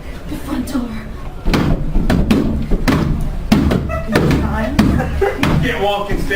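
A front door slams shut in a radio drama, a single heavy thud landing amid ongoing dialogue, with voices continuing close by before and after the impact.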